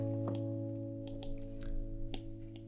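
A guitar note rings low and sustained as the root of a G sharp minor chord, holding steady and quiet with soft string and finger noises over it.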